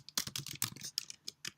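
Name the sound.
typing on a computer keyboard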